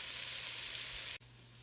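Bacon and onions sizzle steadily in a pan on the way to caramelizing, a constant bright hiss that cuts off abruptly and resumes more quietly near the end, with no voices.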